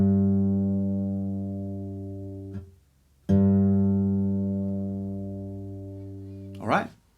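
An acoustic guitar's A string tuned down a tone to G is plucked twice and left to ring, each note decaying slowly, with a soft scrape or knock at the end.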